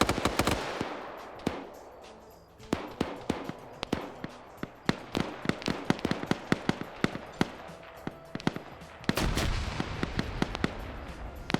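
Rapid bursts of video game gunfire with sharp grenade blasts, dense irregular cracks and booms spread across the stretch, some close and loud, others more distant.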